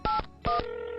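A telephone keypad dials a number, giving two short, clear electronic tones in quick succession, close and alone.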